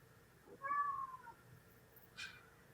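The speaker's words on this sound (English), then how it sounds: "Sorry, my cat's being insane." A house cat meows once with a drawn-out, rising-and-falling call, then gives a shorter, higher squeak about a second later, faint and indoors with no talking.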